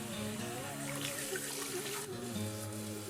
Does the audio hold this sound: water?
yes